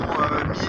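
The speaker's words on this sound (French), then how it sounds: "Vous voyez qu'il y a beaucoup de vent là." A strong outdoor wind buffets the microphone in a loud, continuous rumble during a short moment, with no clear talk over it.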